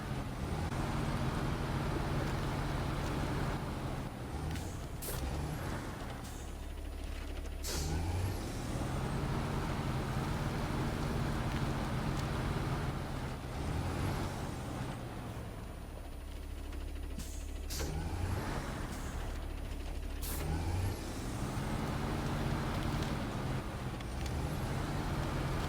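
A smaller truck in the off-road driving game SnowRunner drones steadily with a low engine hum throughout, and sharp hissing air-brake bursts cut in at intervals.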